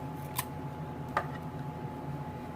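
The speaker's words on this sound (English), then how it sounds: "I'm just going to snip a little bit" Two quick, crisp snips of small scissors cutting embroidery thread on a handmade card, spaced about a second apart and close, over a quiet steady room background.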